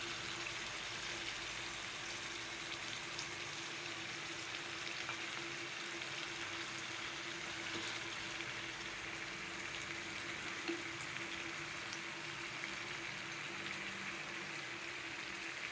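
Eggs frying in a pan for potato egg curry give a steady, close sizzle and crackle that runs unbroken throughout, with no voices.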